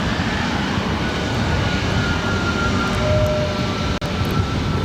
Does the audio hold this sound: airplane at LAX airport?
yes